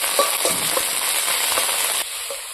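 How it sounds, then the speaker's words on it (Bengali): Chopped tomato and ground onion sizzle in a hot pan while being stirred, a loud steady frying hiss with soft scraping strokes that eases slightly near the end. "দেখুন এই টমেটোটা আর বাটা পেঁয়াজটা আমি কষি নেই"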